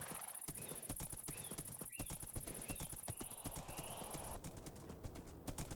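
A Minecraft horse clip-clops in a brisk, continuous run of hoofbeats, close and fairly loud, with a short whinny mixed in.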